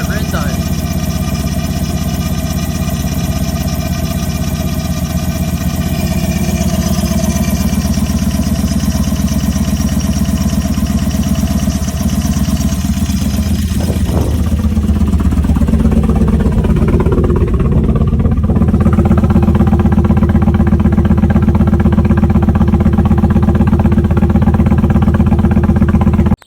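A V8 engine idling in a Toyota Hilux just after its first start-up, a loud steady low rumble throughout, with a brief clatter partway through and a slight rise in level near the end.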